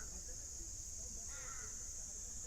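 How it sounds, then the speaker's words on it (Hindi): A mountain crow gives a single faint, distant caw near a mountain campsite at Chopta, heard over a steady high-pitched hiss in the quiet outdoor air. "ये पहाड़ी कौवे जो हैं ये बोल रहे हैं, इनकी आवाजें आ रही है"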